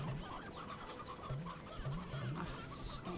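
Hens in the video game Slime Rancher cluck repeatedly, a dense chorus of short pulsing calls with a few rising squawks, fairly close and steady over ongoing game ambience.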